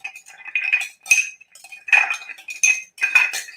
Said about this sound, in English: It's really awkward to stir.